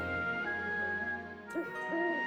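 A one-eyed owl creature in the Tensura Reincarnated game gives soft, hollow hoots, a steady low tone running under the first stretch and two rising hoots near the end, fairly close with faint game ambience.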